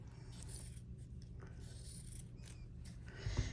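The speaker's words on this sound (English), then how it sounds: "See if we can cut off the very bottom of the green." Scissors snipping green paper for a mixed media journal cover, quiet close cuts with a brief louder snip near the end.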